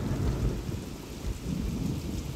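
A thunderstorm rumbles low and steady while rain pours down continuously, a dense wash of sound with no voices.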